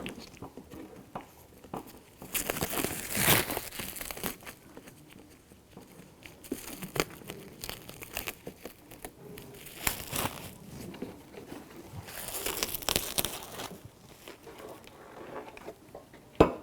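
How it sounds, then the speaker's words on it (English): Protective cellophane is peeled off a new headlight assembly for a 2009–2014 Nissan Maxima, giving close, crinkly crackles and tearing bursts in several separate stretches between quiet pauses. "So I'm going to grab this protective coating, cellophane,"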